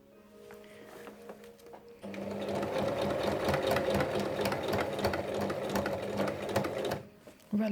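A sewing machine stitches a zipper onto a cushion cover, starting with a brief quieter run, then running steadily loud from about two seconds on with a rapid rhythmic whirring and clatter before stopping near the end.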